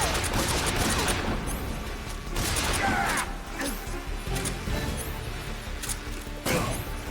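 Gunfire in a Metal Gear Solid boss fight: a loud, dense burst of shots and crashing impacts at the start, further bursts around three and six and a half seconds, with game noise filling the gaps.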